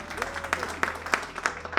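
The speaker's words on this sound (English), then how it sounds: "One white person clapped around." Scattered audience clapping from a played video, a few uneven claps spread across under two seconds, thin and somewhat distant rather than a full ovation.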